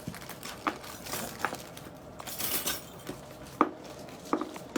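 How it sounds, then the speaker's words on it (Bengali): Gold finger rings are poured out onto a surface, giving a run of light metallic clinks and clatters, some clustered and some isolated, close to the ear with no talk. "ফিঙ্গারিংগুলো সব ঢেলে ফেলছি"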